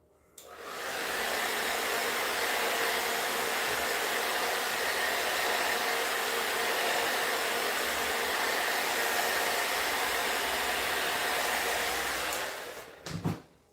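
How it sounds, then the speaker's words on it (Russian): A Dyson Airtouch hair dryer blows steadily onto a strand of hair, a loud, continuous broadband whoosh that holds for about twelve seconds before cutting off with a brief handling clunk. "направление фена, помните, если вы дуете так и дуете так"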